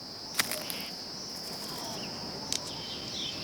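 A lone cricket chirps steadily in a quiet setting, a thin continuous trill with a couple of brief sharper clicks, faint and close.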